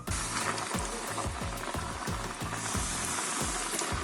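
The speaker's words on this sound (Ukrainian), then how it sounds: "Даю шматочки курки та залишаю кипіти." Chicken pieces coated in flour sizzling and crackling steadily in hot oil, a continuous frying hiss with popping, close and fairly loud, no talking.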